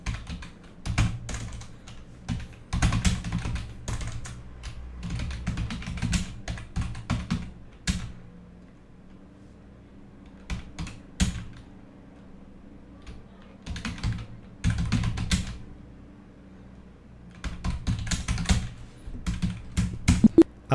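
A computer keyboard clatters in bursts of quick keystrokes as a narration is typed into Tally Prime accounting software, with short pauses between runs of typing, close and clear.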